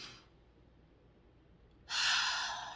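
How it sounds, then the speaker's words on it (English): A person takes a deep breath: a brief airy rush, a quiet pause, then a loud, close, breathy exhale that slowly trails off. "just randomly take a deep breath"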